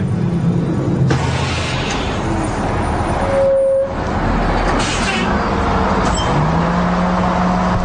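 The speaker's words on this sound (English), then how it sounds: "a bus full of inmates pulls up at Corcoran State Prison" A prison bus carrying inmates pulls up at Corcoran State Prison in California, its loud, steady engine rumble joined by a sharp air-brake hiss partway through and a brief high brake squeal near the end.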